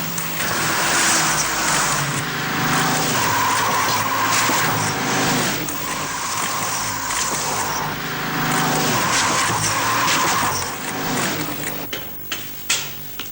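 Car skidding on wet pavement on Goodyear NCT steel radial tyres during a wet grip test, a loud continuous roar of engine and hissing tyre spray with surging swells, ending in a few sharp clicks.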